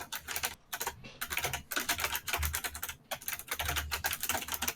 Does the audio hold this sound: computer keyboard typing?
yes